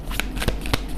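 Tarot cards are shuffled in quick, crisp riffling bursts, close and fairly loud, with a few sharper slaps of the deck between the flutters.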